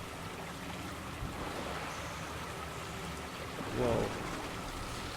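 Running water in BioShock 2: Minerva's Den, a steady rushing wash under a constant ambient bed, with a person briefly exclaiming near the end.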